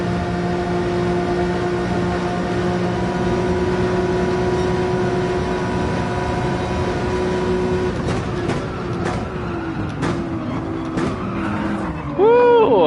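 In a Gran Turismo 7 race, a car engine holds a sustained high whine, then stutters with rapid cuts and pitch wobbles, ending in a sharp, sweeping rev.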